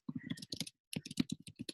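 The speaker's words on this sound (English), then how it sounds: "Oh, I'm typing." Rapid clicks of a computer keyboard being typed on, a quick burst of keystrokes, a short pause, then another burst; close and fairly quiet.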